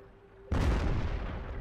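A tank cannon fires a HEAT round in World of Tanks, one sudden loud close blast that cuts in after a quiet hum and then rolls into a sustained rumbling decay.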